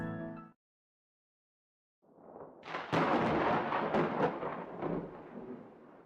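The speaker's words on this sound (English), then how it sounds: "Suddenly, there's a much louder boom than the one I caused. As thunder rumbles outside" A deep thunder boom outside builds from a low rumble into a loud, sustained rolling roar that lasts several seconds after a brief moment of silence.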